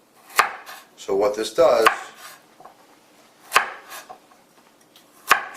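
A kitchen knife cuts a carrot into diamond-shaped pieces on a cutting board, giving crisp, close chops spaced a second or more apart, with a brief burst of quicker cuts; a person speaks briefly over the chopping.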